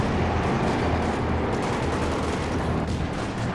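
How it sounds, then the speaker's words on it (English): Light machine guns rattle off sustained bursts of automatic fire in the WWII strategy game Company of Heroes 2, loud and dense with no break, with battle noise filling the background. "Depends on how these LMGs burst away here."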